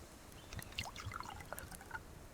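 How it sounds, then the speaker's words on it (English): Faint trickling and dribbling of water running into a container in the survival game Subsistence, with soft irregular splashes and gurgles over a couple of seconds. "So I don't need water just yet, but I think I'm going to fill this up."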